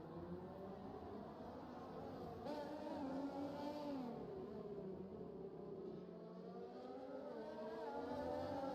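A race car engine in a racing video game revs and climbs through the gears, a steady droning whine rising and falling in pitch, faint and continuous with no talk.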